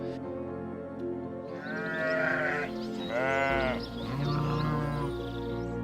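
Alpine ibex, the wild mountain goat of the Swiss Alps, giving a few drawn-out, nasal bleats in the middle of a steady low outdoor hum, two louder calls close together and moderately near.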